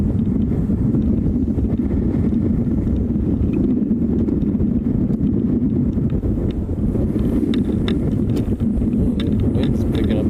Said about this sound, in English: Wind's picking up again.